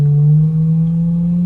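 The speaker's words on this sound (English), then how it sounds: "So it's pretty much a pure tone." A steady pure tone from a signal generator holds at one pitch with no change, loud and clean, and a faint overtone sits above it.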